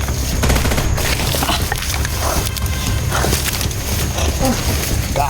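Dense, rapid gunfire bursts in a shooting video game, loud and chaotic with clattering shots layered over each other throughout, and a voice briefly shouting in the mix.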